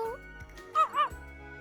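A dog in the visual novel game To Heart gives two quick, high yapping barks close together in the middle, with quiet game background before and after.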